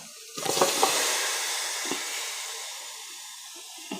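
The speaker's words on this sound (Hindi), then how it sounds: "हमने एक बड़ी कढ़ाई चूल्हे पर रख दी है और इसके अंदर ये तमाम मसाला जो हमने चिकन में लगा के रखा है ये इसमें डाल देंगे" Spiced chicken marinade tipped into a large hot kadai on the stove gives a loud, steady sizzle and hiss that swells quickly and then slowly fades, with a few scraping clinks of a utensil.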